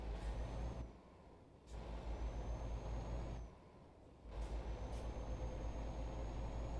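Lorry in the video game Euro Truck Simulator 2, a steady low engine drone that dips twice and then returns, with short hissing air-brake bursts and faint high whines, and no talking.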